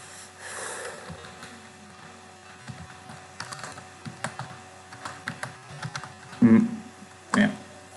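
Fingers typing on a computer keyboard while coding, scattered close keystrokes and short bursts of clicks over a faint hum, with a couple of louder sniffs near the end.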